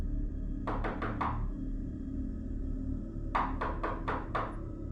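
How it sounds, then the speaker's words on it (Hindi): Two bursts of knocking on an apartment door, first four quick raps, a pause of about two seconds, then five more, crisp and fairly close over a low background hum. "उसी इमारत के एक अपार्टमेंट के दरवाजे पर दस्तक हुई"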